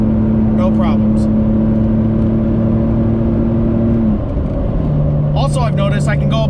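A Toyota Tacoma with a custom OVTune and 529 gearing drives along, its engine holding a steady droning note that drops in pitch as it shifts, while people talk inside the cab over the hum.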